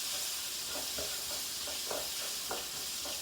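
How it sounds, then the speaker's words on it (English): Fresh turmeric and ginger crackle in hot oil in a new wok, with faint, irregular pops scattered over a steady low hiss at close range. "The crackle's going to start."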